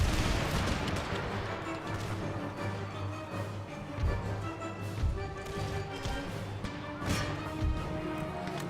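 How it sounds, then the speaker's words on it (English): Artillery and musket fire in Empire: Total War, a steady din of distant booms and crackling shots over a constant battlefield rumble, with no talking. "Stop the artillery fire."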